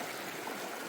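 A shallow river flows in a steady, close wash of water with no other sounds.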